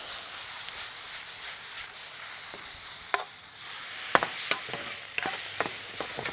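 Soy-glazed food sears in a hot pan with sesame oil for a Korean dish, giving a steady close sizzle with sharp pops and crackles that grow busier in the second half.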